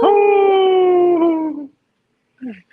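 A person imitates a wolf howl with one long, loud, steady wavering tone that slowly falls and fades, followed by silence and then a brief vocal sound.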